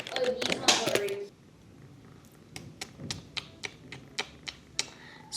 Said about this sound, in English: I finally got myself a decent keyboard for my computer